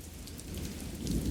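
Rain pours steadily during a storm over a city, dense drops spattering on surfaces with a low rumble of thunder beneath, loud and close with no voices.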